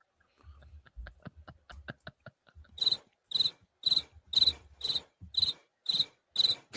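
A cricket chirps in a steady, evenly spaced series of bright pulses, close and clear, following a few faint clicks and soft thumps, with no speech.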